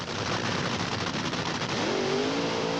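A Top Fuel dragster at the 1983 NHRA Summernationals roars with a loud, continuous, crackling engine blast. The pitch swings upward near the end as the car screams down the strip.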